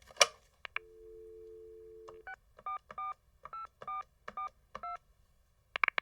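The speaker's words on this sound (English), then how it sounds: "let's ring Adam's bat phone and get him on the line" A telephone dials out to a guest, clear and fairly quiet with no talking. A click is followed by a steady dial tone, then a quick series of DTMF keypad beeps of varying pitch and a few closing clicks.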